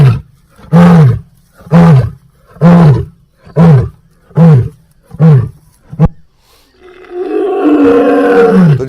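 A big wild cat in the forest gives a loud, close roar, a series of seven rhythmic deep grunting pulses followed by a longer, rougher growl.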